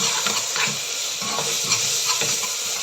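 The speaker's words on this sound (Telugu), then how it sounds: "నేను 2 స్పూన్స్ అల్లం వెల్లుల్లి పేస్ట్ వేస్తున్నాను. వేసేసి ఒక్కసారి కలిపేసుకుందాం." Ginger garlic paste being stirred into fried onions in a pan for mutton curry, giving a loud, steady sizzle close by with soft scraping strokes of the spoon throughout.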